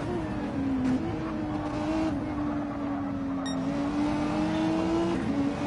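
Race cars lap Brands Hatch in Gran Turismo 7, a pack of Renault, Volkswagen, Mercedes, Lamborghini and Audi machines droning in a steady, sustained engine whine with slight pitch wavers and no talk.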